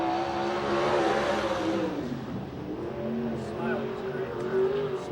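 A USAC/CRA sprint car, the 8A car of Charles Davis Jr., roars around the Hanford, California track, its engine rising and falling at close range under a track announcer's voice.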